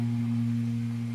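A guitar's low E string fretted at the sixth fret and pushed into a slight quarter-tone bend, a single sustained low note ringing steadily on its own for about a second.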